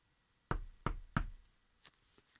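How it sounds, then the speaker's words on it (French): Three firm knocks on a door in quick succession, each loud and close, followed by a couple of faint taps and rustles, with no talk. "il frappe à la première porte"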